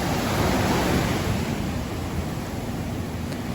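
Ocean waves wash in a steady, full hiss of surf, a dense continuous rush that swells slightly at first and then settles into an even, close wash with no voices.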